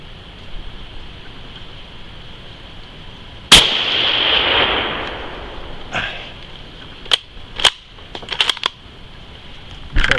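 A single loud gunshot from a Mauser 98K rifle chambered in 7.92mm cracks sharply and decays in a long outdoor tail, followed by several brief clanks and clicks of the bolt being worked.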